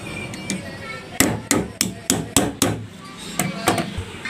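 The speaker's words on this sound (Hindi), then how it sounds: "तो इस पेपर को दबाने के लिए स्केल से इस तरह से ठोकेंगे" Sharp taps of a ruler driving winding insulation paper into the slots of a stand fan stator, about eight distinct close knocks in an uneven rhythm over a low room hum.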